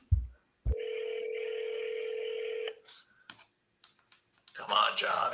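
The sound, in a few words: telephone dialing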